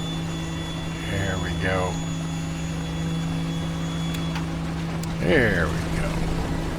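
Twin radial engines of a DC-3 airliner idling steadily in Microsoft Flight Simulator 2020, a constant low drone with a faint tonal hum running under brief speech.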